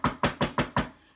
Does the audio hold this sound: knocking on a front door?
yes